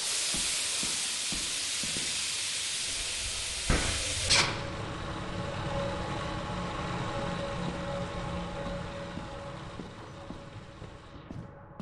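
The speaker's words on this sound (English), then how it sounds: "I'm gonna try to turn this steam off though." Steam hisses loudly from a vent in the video game Lethal Company, a broad rushing hiss that cuts off abruptly with a clunk after about four seconds and leaves a lower, quieter rumble behind.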